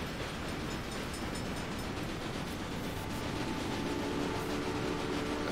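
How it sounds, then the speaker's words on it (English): A train rolls along the track in the Railway Empire game, a continuous dense rumble with faint rhythmic clatter and a few tonal squeals near the end. "Let this train get the hell out of our face."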